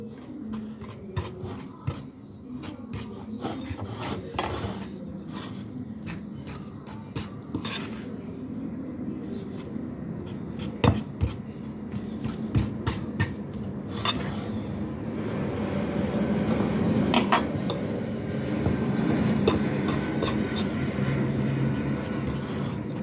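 A spoon stirs flour into mashed potato and eggs in a bowl for a vegetarian burger, making a continuous scraping, clinking churn with occasional sharper knocks, close by and without talk.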